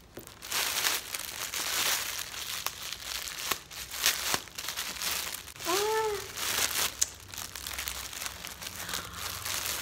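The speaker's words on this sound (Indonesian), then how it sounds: "Jadi kita unboxing apa ya teman-teman?" Plastic packaging crinkles and crackles up close while a delivered parcel holding a jacket is opened and torn into, with irregular rustling bursts and a brief squeaky sound partway through.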